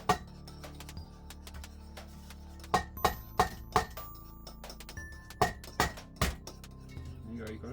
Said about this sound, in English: That's good egg cracking, Lucas.